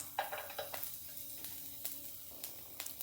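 Garlic sizzles in a hot pan for chilli paneer, a soft, continuous crackling fry broken by occasional stirring scrapes and light clinks, fairly quiet and close with no talking.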